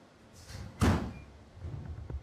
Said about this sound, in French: Et le bruit d'une porte qui se ferme.